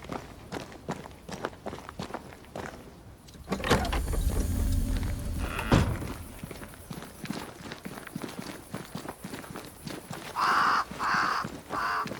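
Crows cawing in the game Banishers: Ghosts of New Eden, several harsh caws sounding near the end over footsteps and rustling ambience, with a louder whooshing swell in the middle.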